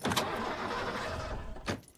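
A car engine cranks and falters to a stall, a rough broadband rumble lasting about two seconds and bracketed by sharper mechanical bursts at the start and end, heard close with no talking.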